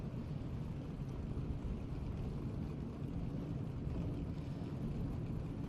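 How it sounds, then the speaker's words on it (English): A continuous low rumble of race car engines idling together at Seekonk Speedway before a race, steady and somewhat distant, with no talking. "The engines are fired here at Seekonk Speedway."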